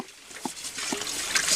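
Water poured and trickling at an outdoor picnic cooking spot, a short soft splashing flow with a few light drips, fairly close and quiet.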